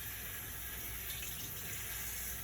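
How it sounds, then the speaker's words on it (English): A kitchen faucet runs steadily as cheesecloth is wetted before straining chicken stock, a constant close hiss of flowing water without any talking. "Always wet your cheesecloth prior so it doesn't soak up a lot of the"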